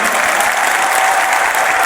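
An audience applauding at the inauguration of a British-style ecological football stadium, with dense, steady clapping from a large crowd filling the whole moment.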